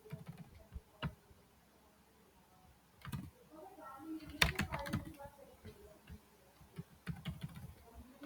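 Computer keys clicking in irregular bursts, some sharper strikes among softer taps, quiet and close with faint background hum.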